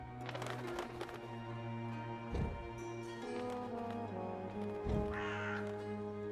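Crow cawing in the video game Dreamfall Chapters, several harsh caws spaced across the clip over steady game music and ambience, with no talking.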